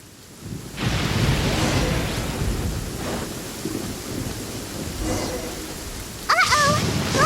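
Steady rain pours through a Genshin Impact thunderstorm, a broad continuous wash with swelling gusts and a brief rumble, while a few tonal game chimes ring out near the end.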